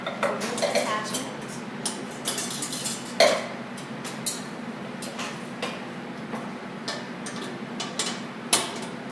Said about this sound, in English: So we will whisk together egg and some oil.